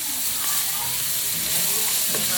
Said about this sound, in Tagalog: i-brown natin siya ng konti para lumabas yung aroma niya